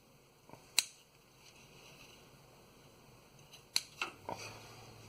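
Wire cutters snip through wiring in the engine bay of a 2005 Chevrolet Suburban 5.3, a few sharp, close clicks spaced apart against a quiet background.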